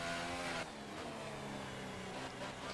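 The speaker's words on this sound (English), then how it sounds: "Really over-revving the engine here." A Williams Formula 1 car in F1 2018 screams at high revs, a continuous whining engine note that shifts pitch sharply once and then holds near its limit.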